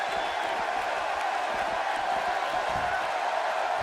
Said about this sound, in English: You can bet this crowd is fired up for this match.